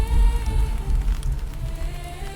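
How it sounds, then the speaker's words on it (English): Rain falls steadily over a battlefield, a close, continuous patter with a low rumbling undertone and faint tonal hum, unbroken throughout. "The rain does not stop"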